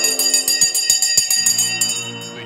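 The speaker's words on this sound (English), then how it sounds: "Let's ring the bell." A stock market opening bell rings in a rapid series of bright, sustained strokes with long metallic overtones, loud and close, slowing and fading toward the end with no voices.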